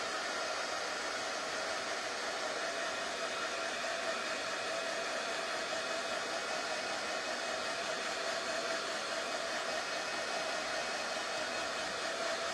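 A hair dryer blowing continuously at close range to dry red and white striped paint on a craft transfer project, a steady, even rushing whoosh with no pauses and no voices.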